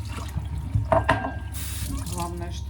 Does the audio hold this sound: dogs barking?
no